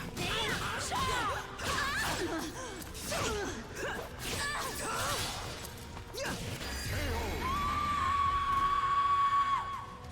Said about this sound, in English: Jeez, that scream.